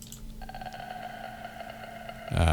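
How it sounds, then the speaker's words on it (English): A guitar pick slides slowly along the low E string, giving a drawn-out, ringing metallic scrape with steady overtones that holds for about two seconds before a louder rough burst at the end. "Now that is the sound of me sliding a guitar pick over the low E string"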